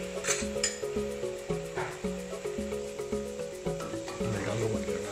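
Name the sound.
boiled spaghetti added to the pan and mixed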